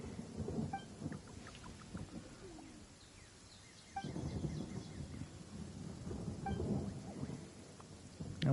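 Thunderstorm ambience in a video game, with steady rain and rolling thunder that swells twice to louder rumbles, faint bird-like chirps scattered over the continuous wash.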